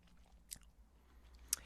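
Someone biting into thick pig bacon from a butterboard, two sharp crunchy bites with quiet moist chewing between, close and faint in an otherwise quiet room.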